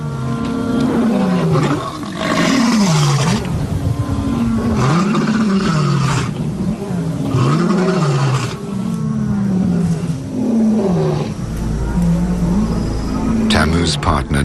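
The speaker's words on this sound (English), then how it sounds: "The roars of lions disrupt the intimacy of the pair." Lions, a pair of them, roar in the evening: deep rhythmic calls that rise and fall in repeated grunting bouts, loud and close, carrying across the wild soundscape over a steady bed of insects.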